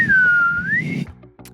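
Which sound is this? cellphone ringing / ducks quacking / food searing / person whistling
person whistling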